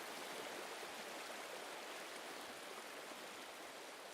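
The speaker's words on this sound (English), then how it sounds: "the Big Sur River cuts right through it" Steady rushing water of the Big Sur River, a continuous broad hiss like a flowing stream, even and unbroken throughout with no voices.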